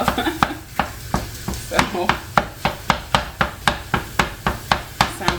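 Turkey sausage meat chopped up in a frying pan with a utensil, giving a fast, steady run of loud, close knocks against the pan while the meat sizzles underneath.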